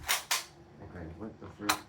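A realistic Nerf gun fires three sharp snapping shots, two in quick succession and then one more after a pause, with a voice briefly audible between them.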